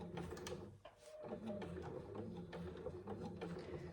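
A sewing machine stitching through thick fabric and foam layers on a zip pouch, a steady close mechanical whirring with rapid needle chatter, pausing briefly once before running on.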